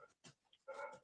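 A big female dog barks at home in the background, giving a short sharp yelp followed by a longer, louder bark, both fairly faint and distant with no talking over them.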